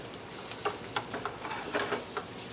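A spoon stirring risotto in a hot pan, soft irregular scrapes and clicks every half second or so over a steady sizzling hiss, close and unaccompanied by talk.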